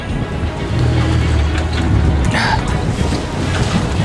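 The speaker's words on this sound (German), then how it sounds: "We are fighting the wind quite intensively" Strong wind buffets a fishing boat out on open water, a loud roaring rush against the microphone with gusts swelling and easing, and a voice talking faintly underneath.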